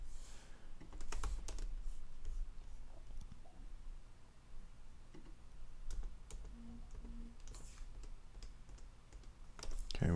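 Fingers tap on a computer keyboard during coding work, scattered quiet clicks and short bursts of keystrokes over a low room hum, close but soft, with no speech.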